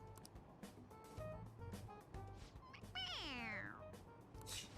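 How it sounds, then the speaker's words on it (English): Stuffed toy cat from Persona 5 Royal giving a single electronic meow when its head is pressed, a clear falling cry near the end, over game background music and voices. "It meows when you press on its head."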